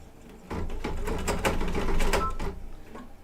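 An embroidery machine stitching satin stitches in metallic silver thread runs for about two seconds in a fast, steady mechanical rattle, close and fairly loud, then stops.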